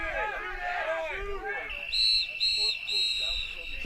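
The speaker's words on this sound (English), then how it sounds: "whistle, and that's going to do it." A referee's whistle ends the half at a Latvia vs Spain lacrosse match in Denver, three sharp blasts in quick succession following a commentator's voice, over a crowd murmur.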